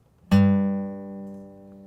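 A single guitar note, the third fret of the low E string fretted with the second finger, is plucked once and rings out clearly, slowly decaying with no talking.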